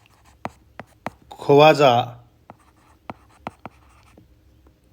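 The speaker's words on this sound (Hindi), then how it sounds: "यहाँ लिख देता हूँ" Marker strokes on a classroom board, sharp separate taps and scratches spaced through the clip, with a brief spoken word in Hindi partway through.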